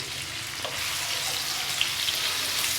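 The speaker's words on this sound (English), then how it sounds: "We'll put some butter in there." Butter sizzles and fries steadily in a hot pan, a continuous close crackle with a few brighter pops, heard on its own without talk.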